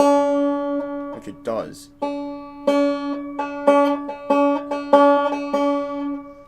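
A banjo's 2nd string, fretted at the 3rd fret, is plucked again and again in short ringing notes, with a brief spoken aside between the early plucks.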